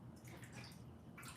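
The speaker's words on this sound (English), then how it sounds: "I'm gonna let this water out." Water drains out of a kitchen pot or sink in a soft, steady rush with light gurgling, faint and close, during butternut squash soup preparation.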